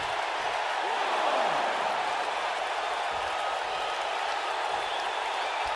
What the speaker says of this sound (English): the crowd is loving Sasha's act.